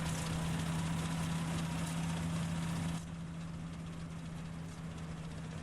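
A Fortschritt E512 combine harvester in a modded farming game runs with a steady, low droning engine hum and a strong tonal rumble, sounding old and rickety; the engine note drops suddenly partway through.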